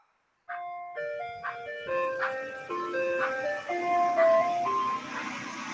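An ice cream truck's chiming melody plays nearby, bright repeated tuneful notes carrying on for several seconds with a faint engine rumble beneath.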